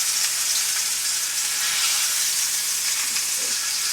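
Food sautéing in a hot pan while making a pork shoulder roast, a steady close sizzle and hiss that runs unbroken with no talking.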